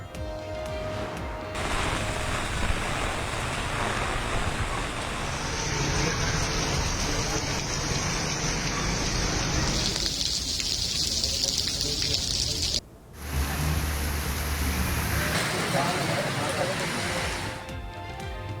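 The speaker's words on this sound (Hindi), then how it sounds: "कराची के मुख्तलिफ इलाकों में वक्फे वक्फे से बरसात।" Heavy rain pours steadily onto Karachi streets during an intermittent downpour, a dense continuous hiss with passing traffic and a murmur of voices, briefly cutting out once before resuming.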